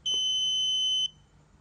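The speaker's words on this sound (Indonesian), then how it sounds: "bunyi pada buzzernya." An embedded-system buzzer triggered by holding push button PB1 gives one sustained, piercing electronic tone for about a second, then cuts off abruptly to near silence.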